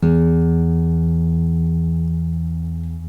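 A single low E note rings out on a string instrument, rich and sustained, slowly fading over a few seconds.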